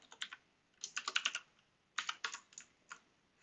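Fingers type on a computer keyboard in two quick bursts of close, crisp keystrokes separated by a brief pause, ending in a few scattered taps.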